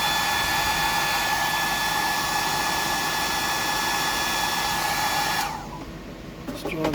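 A hair dryer blows with a steady, loud broadband rush for several seconds, then shuts off and leaves faint handling noises.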